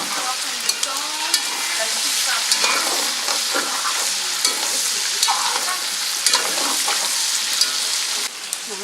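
Onions fry in a pot for a tang curry, giving a dense, continuous sizzle and crackle with occasional scraping stirs, steady and close throughout.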